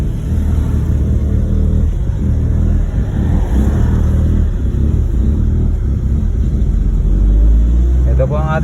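A van named Blacky drives along a road, its engine rumbling steadily and close throughout with constant road noise, rising slightly as it accelerates near the end.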